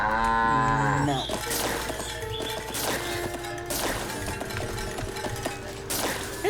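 A cow in the video game Wytchwood lets out a long, loud moo at the start while being milked, followed by clattering game sound effects and chiming tones.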